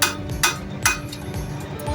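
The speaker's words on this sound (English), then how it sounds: "I'm going to take my hammer and put the steel up on edge so the corner is pointing up" A hand hammer strikes the upturned edge of a steel bar at a steam show, three bright metallic taps about half a second apart, close and ringing briefly.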